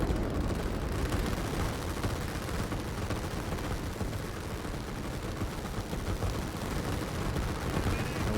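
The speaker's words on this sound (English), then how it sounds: "Rockets being fired over in this section here." Rockets launching in the Line War strategy game, a dense, continuous barrage of booming blasts and crackling bursts layered over each other at steady high loudness for the whole stretch, with no voices.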